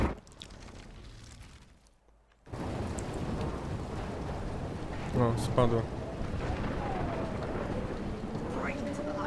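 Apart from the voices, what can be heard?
thunderstorm in video game Life is Strange Remastered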